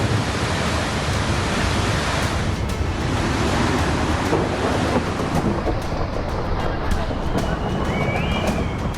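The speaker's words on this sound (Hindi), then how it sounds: "उफनती नदी" A flooded, swollen river in Kullu, Himachal, roars with heavy monsoon flow, a dense, unbroken wash of loud rushing water filling the whole stretch with no pauses.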